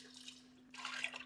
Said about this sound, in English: Just about ready to pour in some milk and heavy cream